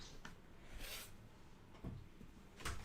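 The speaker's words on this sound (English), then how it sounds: "Let me close my door." A bedroom door is pushed shut, giving a couple of soft wooden knocks and a latch click, with a final thud near the end; quiet and close, no talking.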